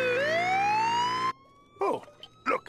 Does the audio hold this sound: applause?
no